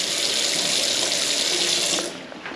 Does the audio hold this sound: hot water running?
yes